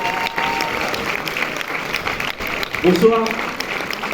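Audience applause for a film's two directors and two actors at a cinema premiere, a steady patter of clapping through which a voice greets the crowd.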